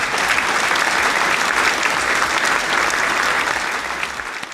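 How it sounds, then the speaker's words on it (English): An audience claps at a live book reading event, steady dense applause throughout that eases slightly at the end. "Everybody, let's clap."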